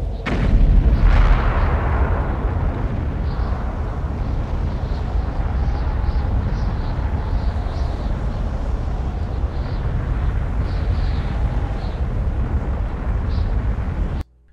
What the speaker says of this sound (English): If you shoot all 10, the volcano on the opposite end of the valley erupts.